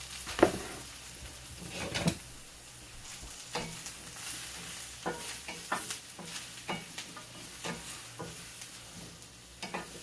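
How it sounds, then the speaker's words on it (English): Mushrooms sautéing in olive oil in a pan, with a low continuous sizzle under repeated scraping and stirring strokes from a utensil, close and moderately quiet, with no talking. "mushrooms in pan being sauteed. Add a little bit more olive oil."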